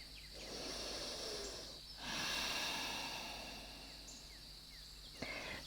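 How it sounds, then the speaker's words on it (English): A slow, deep breath drawn and released during a beginner-to-intermediate yoga flow, soft and close with a swelling airy rush midway, alone with no talking. "Take a nice deep breath here."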